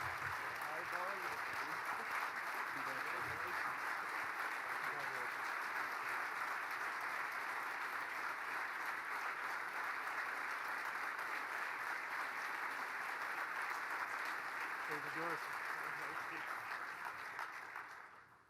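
Loud, sustained audience applause at a TechPoint Mira marketing tech awards ceremony, welcoming Don Brown of Angie's List to the stage; the clapping runs steadily for about seventeen seconds with a few voices faintly underneath before it tapers off.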